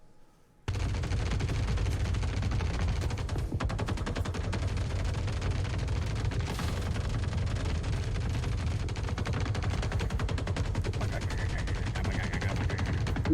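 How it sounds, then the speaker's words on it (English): Gunfire from AI combatants shooting behind breakable cover and Maelstrom barrels in Star Citizen, a dense continuous barrage of rapid shots and bursts, loud and sustained after a brief quiet start. "So here's some video of some test footage of AI shooting each other behind breakable cover and Maelstrom barrels."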